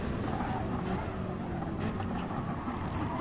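BMW and Mercedes race cars in a simulated Le Mans endurance race give a steady, loud engine drone that holds evenly throughout with no gaps.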